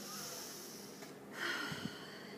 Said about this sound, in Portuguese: E aí a gente pode respirar.